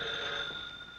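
A telephone rings steadily in a 1941 period interior, a continuous bright ringing tone at moderate volume with no voices over it.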